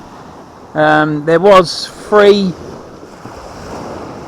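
Sea waves washing on the Hilston shore of the Holderness coast as the tide ebbs, a steady, soft surf rush with wind noise that continues beneath and after a few brief spoken words.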